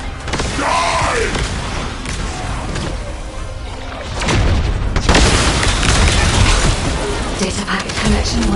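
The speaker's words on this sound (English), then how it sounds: "This precision bomb." A precision bomb goes off in the video game The First Descendant, a loud booming blast that rolls into a long crashing rumble amid busy game effects.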